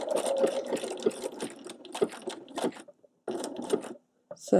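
A sewing machine satin stitches a tulip onto fabric in short, rapid whirring bursts separated by brief pauses, close and fairly loud.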